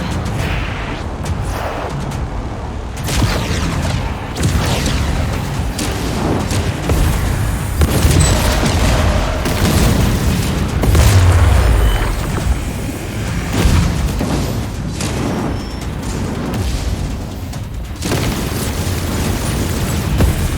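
Loud, dense rumbling explosions and bursts from a generator bank being destroyed in the sci-fi space combat game Chorus, sustained booms rolling continuously under heavy low-end noise.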